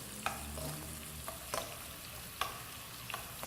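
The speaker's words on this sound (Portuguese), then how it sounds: "essa cebola ela vai cozinhar até ela ficar transparente, sem dourar" Chopped onion cooking in a pan until translucent without browning, giving a soft, steady sizzle with a few sharp scrapes of stirring, fairly quiet and without voices.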